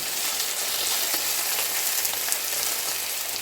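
Vegetables sautéing in a hot pan right after browned chicken comes out, giving a steady, close sizzle with crackling pops throughout and no voices.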